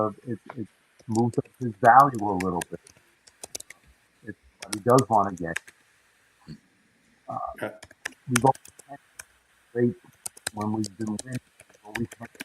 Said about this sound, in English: Somebody typing, got to stop typing, can hear it in the background.